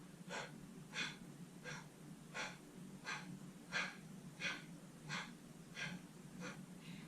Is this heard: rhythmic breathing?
yes